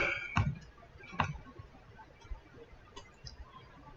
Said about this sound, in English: Using this mouse sometimes is hard because it's clicking even though I'm trying to drag it.